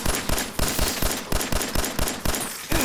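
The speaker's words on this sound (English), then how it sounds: "I waste so many bullets on these guys" Automatic gunfire in the video game Fallout 4: loud, rapid, evenly spaced bursts of shots repeating steadily over a few seconds, dense and close with no pauses.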